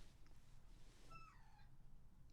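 A house cat gives a single short, fairly quiet meow with a falling pitch, heard alone over low room noise, followed by a brief sharp click at the end.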